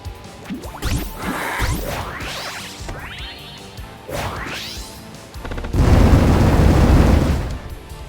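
Bombs blowing up in the video game Cross Blitz, a run of crashing, whooshing game blasts with rising sweeps, ending in a louder sustained rumbling explosion near the close.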